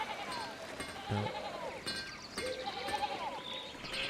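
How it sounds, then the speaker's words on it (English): Sheep bleating in the video game Pentiment, several wavering bleats from more than one animal at moderate distance over a quiet background, with a brief word spoken once. "Can you say hi to the sheep?"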